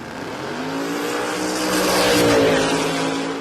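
A drag racing car at Warwick Dragway in Australia roars through a loud, rising engine note that swells to a peak and then eases slightly, a harsh, dense mechanical howl with no speech over it.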